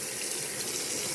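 A pumpkin is rinsed under a running faucet, a steady close hiss of flowing water that lasts a moment with no talking.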